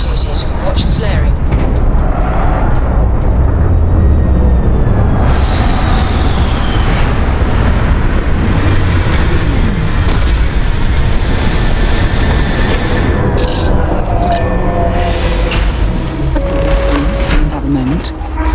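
A spaceship touching down in Starfield, with a loud, continuous roaring engine rumble and bursts of thruster hiss swelling and fading, while a voice speaks over it.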